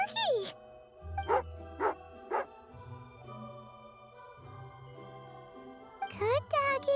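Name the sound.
dog in the Genshin Impact video game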